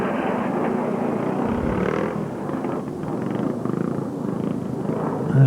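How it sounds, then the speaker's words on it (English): A fighter jet passes overhead at a Scottish pre-65 motorcycle trial, a steady, loud broadband roar that holds throughout and swells at the very end. "There's one of those fighter planes going over"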